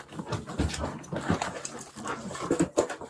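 A dog pants and whimpers with scattered small yips over a noisy, rustling background, all of it fairly close. Nobody speaks.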